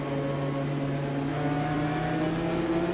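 Several race cars roar in a dense pack at the start of a Daytona race in Automobilista 2, mostly Ginettas plus a BMW M4, with steady loud engine drone and overlapping tones throughout, no talking.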